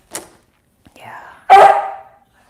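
A pet dog, a female, lets out a short bark, then a louder, sustained bark-yelp a moment later, close to the listener in an indoor home setting, with a voice audible around it.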